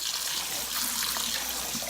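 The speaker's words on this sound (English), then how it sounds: "I'm giving my banana leaves a shower" Running tap water pours steadily over banana leaves being rinsed in a kitchen before cooking sweet rice, a soft continuous splashing hiss with no voices.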